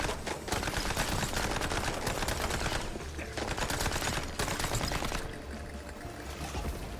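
Rapid automatic gunfire rattles in the video game Mouse P.I. For Hire, a dense, loud, continuous burst that drops briefly and resumes, with no voices over it.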